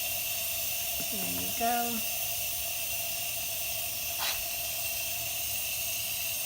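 A steady, close hiss of steam escapes an Instant Pot cooking tindora (ivy gourd) and runs the whole time, with a few brief spoken words and a small click over it.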